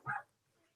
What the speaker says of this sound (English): Man, dogs are going crazy.